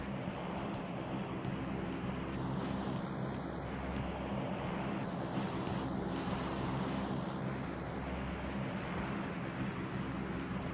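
Airplanes in the video game PUBG Mobile drone overhead, a steady continuous engine roar with airy rushing noise, moderately loud and unbroken, with no talk.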